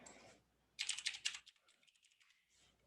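Quick bursts of keystrokes on a computer keyboard, a rapid cluster of close, crisp clicks followed by a few lighter taps in a quiet room.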